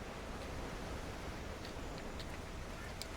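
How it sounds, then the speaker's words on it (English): A small waterfall in the Rotten Vale area of the video game Monster Hunter World, a steady broadband rushing and splashing that holds at an even level throughout without breaks. "Another little waterfall here."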